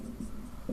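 A short, faint stretch of pen-on-surface scratching as an answer is written out during a maths reasoning lesson on clock angles, with a few soft strokes in quiet surroundings.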